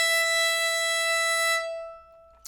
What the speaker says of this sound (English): So we're going to start out with open E string.